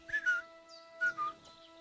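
In the video game Kingdom Come: Deliverance 2, a crouching character whistles two short, faint two-note phrases separated by a pause over a quiet, steady background hum.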